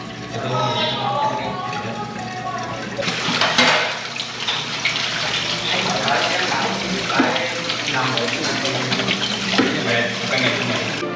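Tap water runs steadily into a sink while dishes from the morning meal are washed, a continuous close splashing with occasional clinks, and people talk over it.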